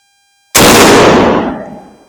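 A single sharp rifle shot from a 1920 Remington Model 8 semi-automatic in .35 Remington cracks loudly after a brief silence, then rings out and decays over about a second and a half.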